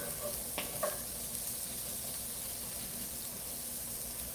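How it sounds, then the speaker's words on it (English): Onions frying in oil in a pan, a continuous dense sizzle with a few quick scraping clicks of tossing early on, steady and close throughout. "So I'm going to toss them around so that everything is coated in oil."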